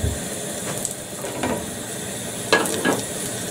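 Square sausage frying in oil in a pan, a steady broadband sizzle with a few louder crackling bursts, close and continuous with no talking.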